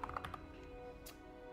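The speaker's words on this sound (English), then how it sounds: "I'm thinking while I'm typing." Rapid keystrokes on a computer keyboard, a quick burst of close clicks followed by quieter intermittent tapping.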